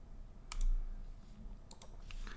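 A computer mouse clicks on an OK button, several short crisp clicks close to the microphone over quiet room tone.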